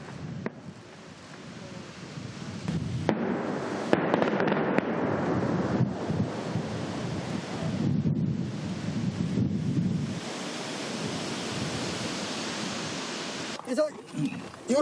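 Tunnel demolition explosions at a North Korean nuclear test site: a sustained roar of rumbling blasts with several sharp bangs, loud and continuous, then settling into a lower rumble before a few final cracks.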